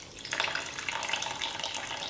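Water poured slowly into a carrot pulp cookie mixture, a steady soft trickle and splash running throughout, close and fairly quiet, with no talking.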